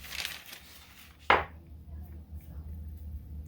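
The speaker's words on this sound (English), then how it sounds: "I'm going to use my cookie scoop" A cookie scoop gives one sharp, close scraping clack as it portions orange spice cookie dough, after a soft rustle and then quiet kitchen room tone.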